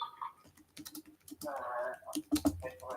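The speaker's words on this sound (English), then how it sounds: "I'm just typing" Quick, uneven tapping on a computer keyboard, close and clear, with bursts of keystrokes, a brief louder patch of clatter, and faint talking in the background.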